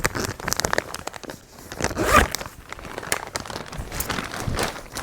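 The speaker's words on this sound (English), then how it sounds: "So I'm going to put those in this bag right now" Furry winter throw pillows are pushed into a zippered plastic storage bag, giving crinkling, rustling plastic and a quick zipper pull in the middle, close up with no talking.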